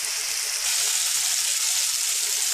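Mushrooms sizzle steadily in a hot pan while they brown and caramelize, a continuous close hiss of frying that swells slightly partway through, with no voices.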